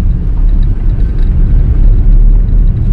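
A 2014 Suzuki Karimun Wagon R pulls away in first gear, its engine a steady, loud low rumble heard from inside the cabin without any talk.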